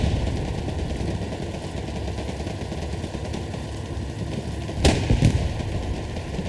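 Tank shelling infantry in the World War II shooter Hell Let Loose: a steady low battlefield rumble, then a sharp, loud blast near the five-second mark with a quicker follow-up crack, no talking.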